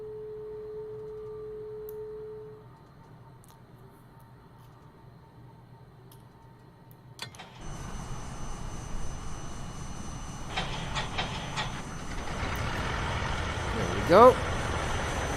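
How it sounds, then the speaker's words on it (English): Right engine of a Cessna 414 Chancellor starting in a flight simulator, a tonal whine giving way to a catch and a steady rising piston drone, with a brief spoken voice near the end. "There's the right engine."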